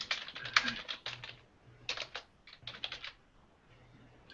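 Fingers type on a computer keyboard in irregular bursts of crisp, close clicking with short pauses between flurries, while a faint low hum runs underneath.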